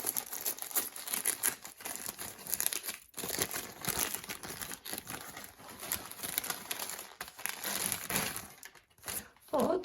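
Wrapping on a bag-shaped Christmas gift crinkles and rustles close up in dense, irregular bursts as it is torn open, while someone talks over the noise.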